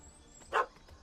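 A puppy in The Witcher 3 gives a single short, bright bark over a quiet ambient game backdrop, loud for a moment and then gone.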